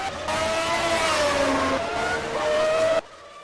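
A pack of about six race cars screams past at the San Marino Grand Prix, engines whining and shifting pitch in overlapping layers, loud and sustained before cutting off abruptly.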